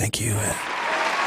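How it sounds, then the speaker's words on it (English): A full crowd at 3rd Street Market Hall cheers and applauds in a steady, dense wash of noise after a brief spoken thanks at the start. "Oh, full crowd of people. They're cheering."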